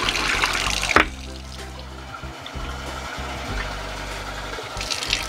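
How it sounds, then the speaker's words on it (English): Tap water runs steadily over sprouting seeds in a container, with a splash near the start, then a continuous close rush and gurgle as the bean sprouts are rinsed, with no talking. "So let's go ahead and get these rinsed and drained and rinsed."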